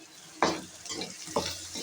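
Green chilies fry in a pan for a poha mixture, sizzling steadily with two sharper bursts as a spoon stirs and scrapes them close by.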